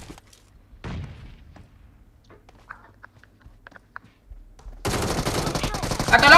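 Gunfire in PUBG Mobile: a few scattered faint shots and clicks over quiet stretches, then a loud, dense burst of rapid automatic fire erupting near the end and continuing to the close.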